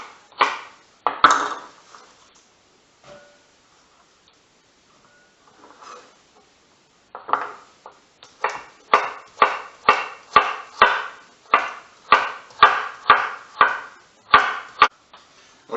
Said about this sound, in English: we're just going to roughly chop these and get them to the bowl